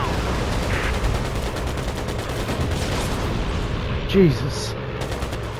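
Machine gun fire rattles steadily during dogfighting in the WWII Pacific air combat game Air Conflicts: Pacific Carriers, loud and continuous, with a brief thump near the end and a man briefly exclaiming over it.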